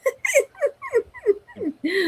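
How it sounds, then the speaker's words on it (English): A row of dogs giving high, rising whimpers and yips, about seven short cries in quick succession while they wait to be fed, ending in a longer whine; close and clear. "Look at all these dogs."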